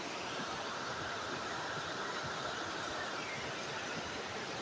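Steady, close broadband rush of a mountain river running beside a small hillside village of a few houses, a continuous dense roar with no breaks and no talk over it.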